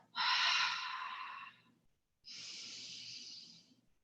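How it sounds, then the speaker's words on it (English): Two long, deep breaths during a gentle yoga session, a strong airy exhale lasting over a second followed by a brief pause and a second softer, steady breath, close and clear with no talking. "So you could even exhale first"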